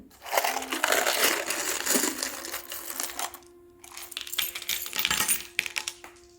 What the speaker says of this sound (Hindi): ओके, एक चार्म आपके नीचे गिर गई है।